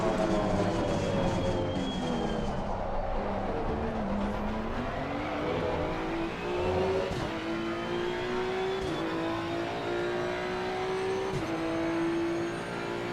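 GT2-class race cars, Porsche and Mercedes among them, roar through a racing video game, with one loud engine note climbing and settling through gear changes as other cars howl close by throughout.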